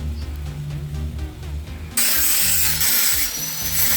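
Power tool cutting protruding pieces off a metal bed frame for a loft bed: a lower grinding rumble first, then a sudden jump to a loud, bright, harsh cutting screech lasting the final two seconds.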